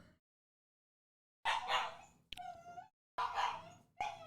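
A dog named Kaya whimpers and yips nearby in a few short bursts after a quiet pause, high whiny cries rising and falling between brief silences.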